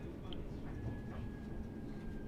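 A Class 323 electric multiple unit in Centro livery running through Birmingham Cross City in Train Sim World 4, a steady low rumble of traction and wheels with a faint thin whine, moderately quiet and unbroken.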